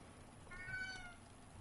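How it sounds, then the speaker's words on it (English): Pet cat Mochi gives a single short meow, faint and fairly distant, over a quiet room hum with no talk. "meow again for everybody over on YouTube land"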